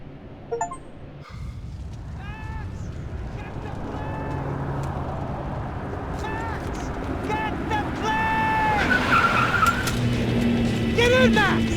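Car tires skid and squeal in repeated drawn-out screeches during a getaway drive in the video game Max Payne 3, over a running engine roar, with voices shouting between the squeals.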